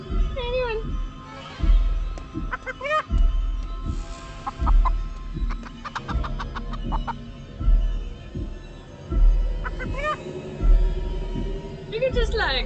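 A chicken clucks repeatedly at close range in short, uneven bursts, with pitched calls scattered through, while a person talks over it intermittently.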